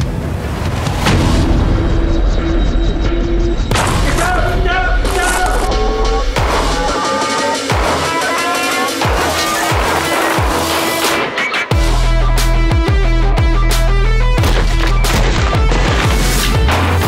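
Military shooting evolutions bring a loud, continuous run of gunfire and booming blasts, with repeated sharp reports over a dense, steady background and no talking.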